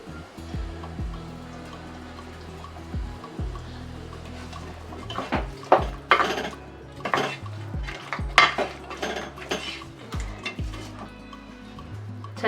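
Chicken chops stirred with salt and coriander in a metal pan, a spoon clanking and scraping against the pan in irregular, increasingly busy bursts, close and alone.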